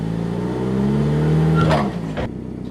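A car engine idling steadily with a low, even rumble as the flip car is eased off a dolly, a brief rev swell and clunk near the end before it settles again.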